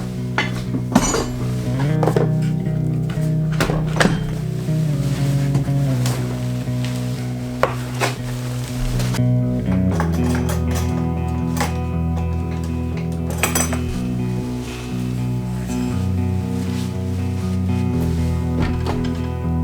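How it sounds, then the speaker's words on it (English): Metal tools clink, clatter and scrape as they are taken out and handled in a workshop, a busy close run of jangling hits and rattles with a steady low hum underneath. "I'm going to start by getting all the tools out of here."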